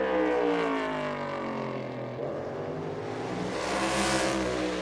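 A Wood Brothers Ford NASCAR Cup race car screams through a qualifying lap at the Xfinity 500, its engine a loud, steady high-revving roar with a sliding pitch as it passes close by.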